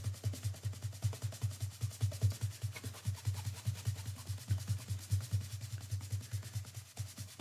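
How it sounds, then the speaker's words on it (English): Dust is rubbed off the top edges of old 1930s hardback books, a steady rhythmic scrubbing with quick back-and-forth strokes repeating close up for several seconds, with no talking. "rub the top of the books here just to get off any sort of dust that may have built up over the years"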